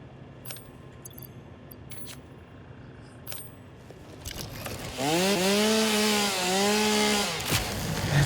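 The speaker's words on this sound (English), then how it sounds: "Need my chainsaw." A chainsaw in the video game Satisfactory starts up after a few light clicks and clanks, then roars loudly and steadily while cutting through trees, its pitch rising and dipping as it bites, close and without talk.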